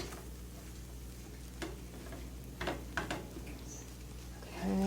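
Fried rice with soy sauce cooks in a pan, a faint, steady sizzle with a few sharp ticks and scrapes, growing louder at the very end.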